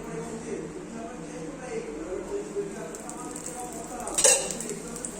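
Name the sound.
oil sizzling while frying chickpea flour pudla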